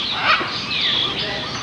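Birdsong chirps and trills rise over a dense outdoor chorus of insects or birds, steady and fairly loud, with no talking.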